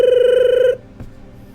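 A telephone rings in a quiet hotel room, one sustained electronic ring lasting under a second, then cuts off abruptly, leaving faint room tone and a soft thump.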